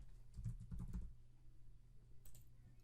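Computer keyboard typing, a quick burst of keystrokes near the start, then quieter faint clicks over low room hum, no voice.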